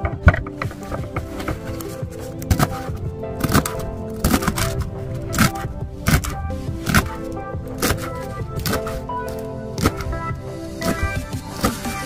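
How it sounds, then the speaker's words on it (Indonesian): Papaya leaves being chopped into small pieces, a run of sharp, uneven close knife chops against a board, some quick and some spaced apart, with no talking. "si daun pepayanya ini kita potong atau kita rajang kecil-kecil"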